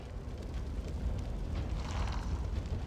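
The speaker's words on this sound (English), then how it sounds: "When you zoom into the fire, you can actually hear the fire." Crackling, roaring fire from the video game Divinity: Original Sin II, a steady dense rumble with faint flickering hiss running continuously and fairly loud throughout.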